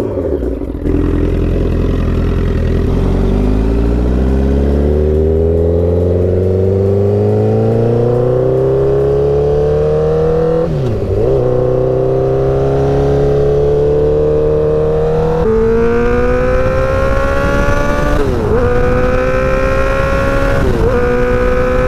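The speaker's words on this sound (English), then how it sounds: "All right, I got the bike warmed up." A motorcycle engine revs on a test drive, continuous and loud, its pitch climbing steadily through the gears with brief dips at each shift before rising again, no voices.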